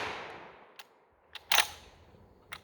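A GForce GFY 1 shotgun that has been failing to feed fires a single sharp, loud report that rings out and decays. Faint mechanical clicks of the action come before and after it, and the tail of an earlier blast fades at the start.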